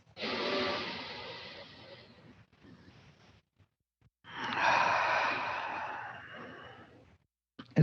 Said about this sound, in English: thanks for breathing with me and each other